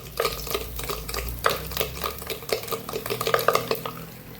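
Curry leaves fry in oil in a pan as a spoon stirs and scrapes against the metal in irregular clinks, with a soft sizzle beneath, close by and without talk.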